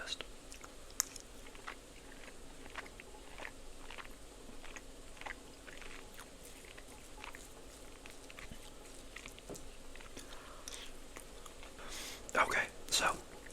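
Someone eats buffalo chicken salad close to the microphone, with soft, steady chewing and moist bites over a low background hiss and a brief louder crunch near the end. No one speaks.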